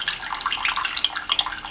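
Water drains through a small valve on a hose rigged to the bottom of a plasma cutter's water tank, a close, steady splashing trickle heard alone for a brief moment.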